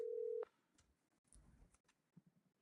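A telephone is dialed to reach a radio call-in caller, opening with a short clear dial tone followed by faint clicks and soft keypad or line noises, quiet and sparse, without speech.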